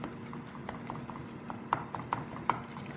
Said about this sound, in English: make sure you mash the onions with the wooden spoon